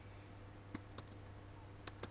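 Keys on a computer keyboard are tapped while writing Python code, a few sparse, crisp clicks spread out over a steady hum, no voices.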